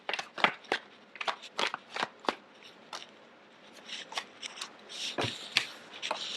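Tarot cards being drawn and handled from a deck, a close run of quick papery snaps, slides and flicks in uneven bursts, fairly loud with short pauses, no talking.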